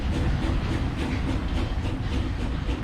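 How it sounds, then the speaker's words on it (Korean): President Park Chung-hee's train rolls along the rails in 1969, a steady loud rumble with rhythmic clickety-clack of the wheels, continuous and close. "그해 여름 남부지방의 피해 상황을 보고 돌아가던 박정희 대통령의 열차가 예정에 없던 곳에서 멈췄습니다."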